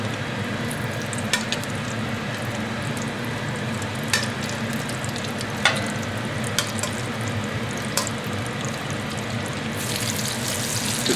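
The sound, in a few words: pork pieces frying in hot oil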